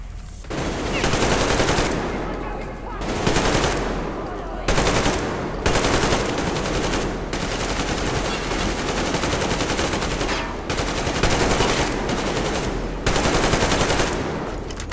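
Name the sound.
machine gun fire in the video game Metro Exodus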